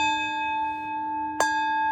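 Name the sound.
bell ringing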